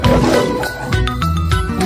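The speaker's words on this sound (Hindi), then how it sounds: "ये सुनते ही लायन जोर से दहाड़ा" A lion roars loudly, a short, full-bodied and rough growl close by, with bright tonal layers over it that suggest a produced, cartoon-style sound effect rather than a live animal.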